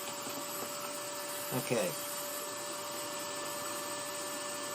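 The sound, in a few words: vacuum dust collection running while carving a rolling pin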